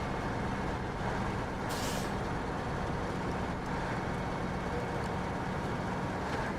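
A truck in a video game releasing its air brake: short sharp hisses over a constant heavy engine rumble, loud and close.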